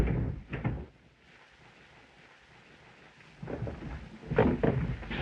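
A locked roof door is tried and rattled in two bouts of knocking clatter separated by a quiet stretch, with the second bout louder and busier, and no voices.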